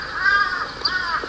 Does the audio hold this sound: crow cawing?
yes